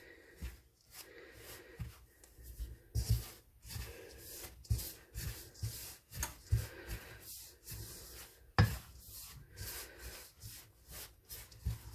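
Cheddar cheese quick bread batter stirred in a bowl, a run of repeated close scraping and rubbing strokes with occasional sharper knocks against the bowl, fairly quiet and steady.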